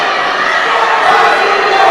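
Arena crowd cheering at a women's judo contest in Rome, a dense, steady roar of many voices sustained loudly throughout, swelling slightly toward the end.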